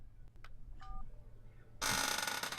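In the video game Broken Sword: The Sleeping Dragon, a phone is dialed: a few faint clicks and a brief two-tone dial beep, then a loud burst of harsh broadband noise rushes in at the end.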